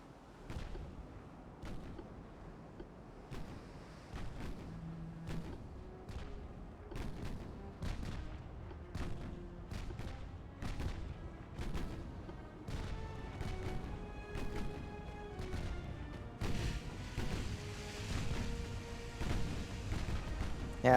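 Naval guns fire in the warship game Ultimate Admiral: Dreadnoughts, a steady series of sharp booming shots at irregular intervals over a low rumbling battle backdrop, growing busier toward the end with no talk.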